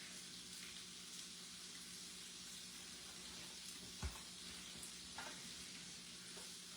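Onions, bacon and smoked sausage sizzle steadily in avocado oil in a pan, a constant soft frying crackle with a couple of brief clinks from turning the pieces.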